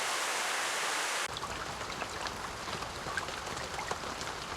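Steady rain ambience from the visual novel If My Heart Had Wings, a dense hiss of falling water that shifts abruptly into a softer, patterin' wash with scattered drop ticks, continuous throughout and without voices.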